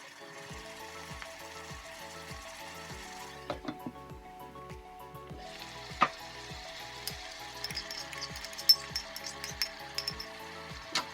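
Steady sizzling of tomatoes and red and green peppers frying in a pan over already-fried onions, with a rhythmic scraping of a spatula stirring throughout and occasional crackles.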